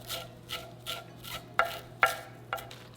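A knife roughly chopping cilantro on a cutting board, six or seven evenly spaced close taps that grow sharper toward the end, with no talking.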